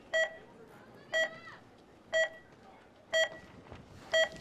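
Five evenly spaced electronic start beeps, about one per second, sound out at a women's timbersports boom run event outdoors in Lehi, Utah, each short and clear over low crowd ambience.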